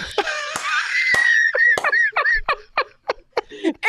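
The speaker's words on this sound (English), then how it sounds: "Sorry, I'm screaming." One person screams and shrieks in high-pitched, laughing bursts, loud and close, with a sustained squeal at first and then a run of choppy, giggling yelps.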